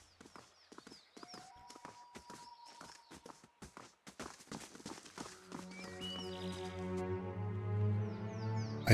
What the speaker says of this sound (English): I hear some footsteps.